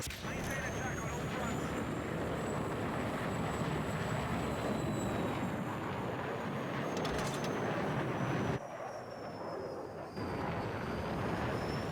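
A jet aircraft in the video game Battlefield 6 roars steadily with a continuous engine drone and high whine, briefly dipping near the end, while a voice talks over it.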